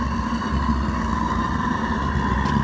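A homemade metal foundry burner roars steadily with its heat gradually turned up, running at about 15 psi; the sound is a constant loud rushing drone with a low hum, no talk.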